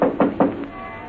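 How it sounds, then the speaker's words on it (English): A door rapped by hand three times in quick, even succession, close and fairly loud, on an old-time radio drama, followed by a faint lingering tone. "I ran up the walk, rapped on the door."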